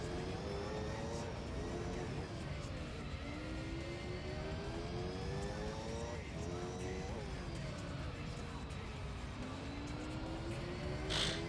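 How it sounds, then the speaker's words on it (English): Jet dragster engines in the Gran Turismo 3 racing game, a continuous droning, whining roar with slowly rising and falling pitch that runs steadily throughout, fairly faint and even in level. "Jet dragsters, oh my god. Prepare for deafness."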